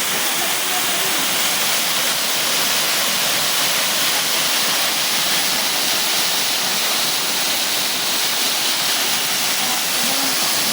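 A waterfall at Busay Falls in Luluwasan, Balatan, Camarines Sur roars in a loud, steady, continuous broadband rush that fills the scene at close range.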